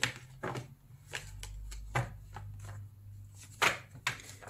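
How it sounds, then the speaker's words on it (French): Decks of oracle and Lenormand cards are shuffled by hand in a string of sharp riffling bursts and soft slaps, near and fairly quiet, with no talk. "On mélange 3 fois les jeux."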